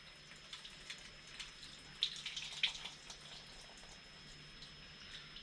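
Water runs and splashes out of an old car with a 1.8T engine during a teardown, a faint trickling stream with scattered drips and a couple of brief louder splashes.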